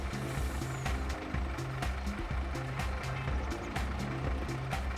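A truck in Farming Simulator 22 backs up, its reversing alarm beeping in a steady repeating rhythm over a constant engine rumble, moderately loud with no talk.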